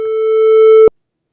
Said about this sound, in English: Let's generate here a chirp,